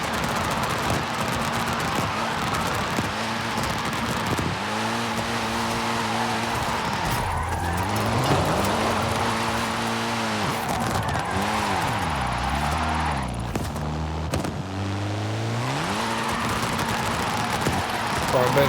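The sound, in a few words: Mitsubishi Lancer Evo car driving in video game Forza Horizon 5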